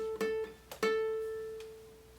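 Two plucked ukulele notes on the same pitch, played on the second fret, the second ringing out and slowly fading; quiet and close, with no talking.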